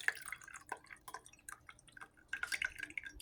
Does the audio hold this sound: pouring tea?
yes